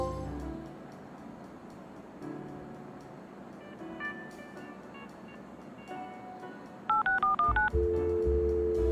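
Telephone keypad tones beep in a quick run of distinct dial presses inside the Leisure Suit Larry video game, following a quiet stretch of soft ambient game sound and ending on a steady tone.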